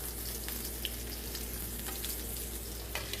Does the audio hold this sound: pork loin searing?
yes